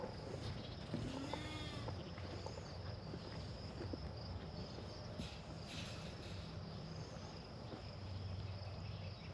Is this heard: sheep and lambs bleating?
yes